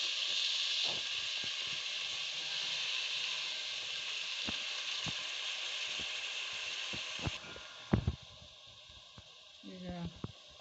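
Tomato and coriander hit a hot pan for togari bhat, a steady loud sizzle and hiss that drops in level partway through, with a few clacks and stirring knocks near the end.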